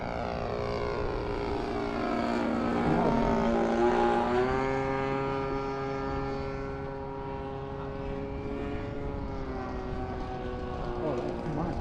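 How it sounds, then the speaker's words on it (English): A Saito FG-11 four-stroke engine drives the propeller of a Hangar 9 J3 Cub RC plane, a steady droning buzz with a rising then settling pitch that stays loud and close for the full span, with no talk. "And the motor's still running."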